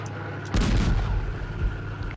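A tank cannon fires a shell in the Panzer Commander game, one sharp loud boom that rolls into a long, fading rumble after a short quiet start.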